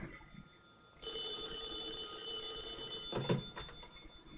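A telephone rings in the 1964 film Dr. Strangelove, a bright electric bell that starts suddenly after a quiet moment and rings steadily before breaking off, followed by a few clattering sounds.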